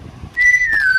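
A single clear whistle from a Roblox game rises sharply and holds a steady, slightly wavering tone for about half a second before gliding down, loud and close.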